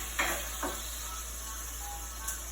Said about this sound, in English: you fry that curry